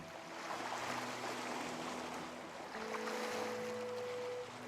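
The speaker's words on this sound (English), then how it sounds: "because of the sounds of the waves and the music" Gentle ocean waves rolling in the video game Bobo Bay, a soft continuous wash heard under steady sustained music tones, with no voices.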